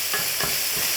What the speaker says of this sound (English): all you need to do is just get in your wooden spoon and just break it up a little bit